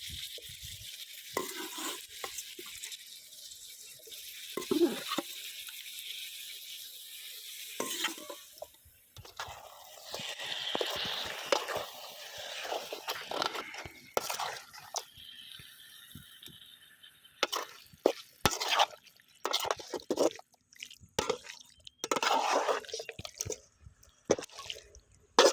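Raw washed chicken pieces go into a pan of spicy Chettinad gravy base and are stirred through, with wet scraping, drips and light sizzling coming in irregular bursts close by, no voices.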